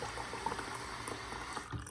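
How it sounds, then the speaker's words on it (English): Very hot water running steadily from a household tap, a continuous close splashing flow with no voices. "this is very, very hot tap water"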